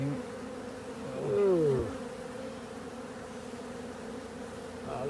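Honey bees in a hive built into a flat roof give off a steady, dense buzzing drone throughout, while a person briefly exclaims partway through.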